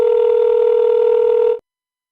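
A steady, loud telephone tone holds on one pitch while a call is being placed, then cuts off abruptly, leaving silence.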